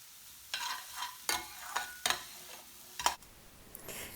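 Chopped onions cooking in a pan for a British Indian Restaurant service onion, with faint frying and a few distinct stirring scrapes and clatters at irregular intervals over quiet background.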